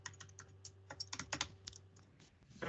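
Typing on a computer keyboard while entering a username to log into a machine: a steady run of quick, light key clicks with irregular rhythm and brief pauses, close and alone with no talk.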